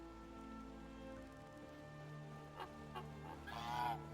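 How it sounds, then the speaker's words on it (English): Geese in Skyrim give a few honking calls at moderate distance, a couple of brief squawks followed by a louder, harsher honk near the end, over a soft, steady game ambience. "Is that a goose?"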